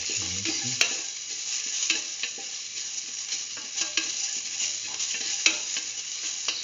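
Chicken pieces frying in a pan while being salted and stirred, a steady close sizzle with scattered clicks and scrapes of the stirring utensil, no talking.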